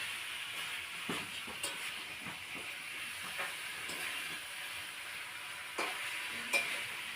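Food frying in a pan during home cooking, a steady, faint sizzling hiss with occasional soft clinks and stirring scrapes throughout, no voices.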